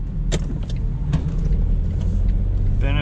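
A Smart Fortwo CDI diesel with an automated manual transmission pulls away, a low engine rumble building under a few sharp clicks and knocks, with a brief whirring near the end.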